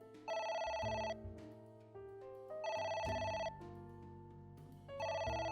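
Phone ringing in the video game AI: The Somnium Files, three clear repeated electronic ring bursts with short gaps, loud and close, with a low music bed underneath.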